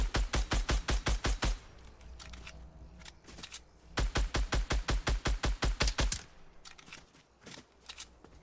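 Rapid bursts of automatic gunfire in OG Fortnite Season 3, two long rhythmic strings of sharp cracks separated by a pause, with scattered single shots at the end.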